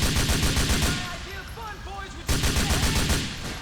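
Dense bursts of rapid gunfire from Grand Theft Auto IV, loud and close, break off for about a second of quieter sound with chirping tones, then resume just as heavily.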